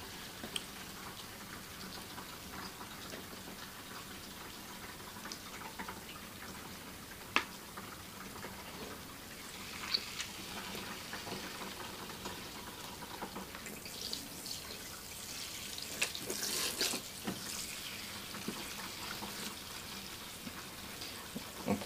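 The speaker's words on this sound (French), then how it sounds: "on applique l'eau sur la cliente" Water runs steadily from a salon sink tap while a client's hair is rinsed, a soft continuous wash with occasional splashes and faint clicks, rising in the last seconds.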